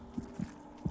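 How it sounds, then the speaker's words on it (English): Faint heartbeats in Hollow Knight: three soft, low thumps spaced unevenly within under a second, over a quiet ambient hum. "It sounds like there's heartbeats above me."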